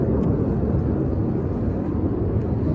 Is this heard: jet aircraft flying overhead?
yes